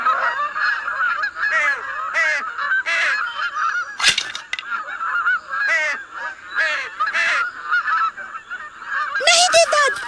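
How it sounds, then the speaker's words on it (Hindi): Swans honk repeatedly in loud, overlapping nasal calls with irregular rhythm, close by, and a few sharp clatters break in partway through. "देखो पंछी"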